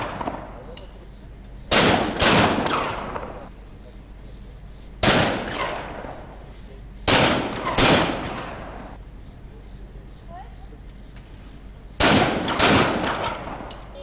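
Loud shotgun reports at a skeet shooting competition, five sharp single blasts spaced a few seconds apart, each ringing out with a long echoing tail across an open range.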